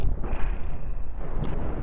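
Ship cannons fire in the space combat game Cosmoteer, a rolling low boom that sustains a steady rumble with a faint high tone above it, then a sharp crack near the end.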